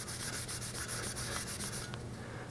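A hammered copper stock pot is polished with brisk back-and-forth rubbing strokes, close and steady, easing off near the end, with no talking.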